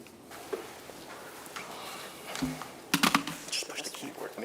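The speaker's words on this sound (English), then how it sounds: "Just push the keyboard when you want to go forward or arrows." Keys clatter on a computer keyboard in a meeting room, light scattered taps building to a quicker, louder burst near the end, with faint murmured voices underneath.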